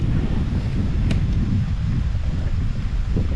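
Wind gusts across an open lake on a fall fishing day, a steady, close, rumbling rush buffeting the microphone for the whole stretch, with one brief brighter tick near the middle.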